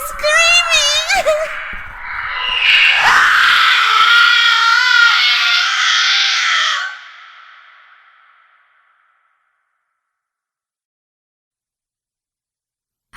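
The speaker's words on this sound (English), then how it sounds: "The trees, they're screaming." Eerie screaming of trees in a dark animated cartoon set near a forest, a long drawn-out wailing cry with echo that swells, holds for several seconds and then fades away into silence.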